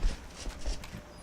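Horse hooves clip-clop in the video game Skyrim, a few quick, fairly close hoofbeats on the ground over about a second, with no talking.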